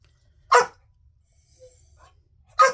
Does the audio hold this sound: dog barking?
yes